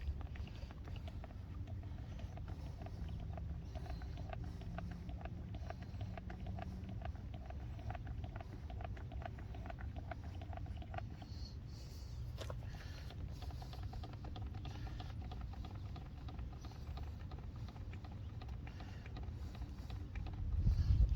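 A pump drones steadily, drawing fluid out of a Glastron Carlson CVX-16 boat, a low continuous mechanical hum with faint rattling that stays even throughout.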